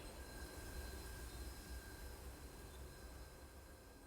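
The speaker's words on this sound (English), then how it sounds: "Train." A train rolls past in the video game Chernobylite, a steady broadband rumble with a faint high squeal running throughout, loud and continuous for the whole stretch without talk.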